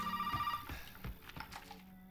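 A telephone in the horror game Resident Evil 7 rings with a tonal electronic trill that fades into muffled thumps and game noises, moderately quiet.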